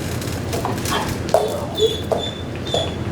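A police K9 dog in recall training whimpers and gives a few short yips, faint and at mid distance against steady outdoor background noise.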